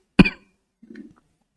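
A man gives one sharp, close cough, followed a moment later by a shorter, softer throat-clearing sound.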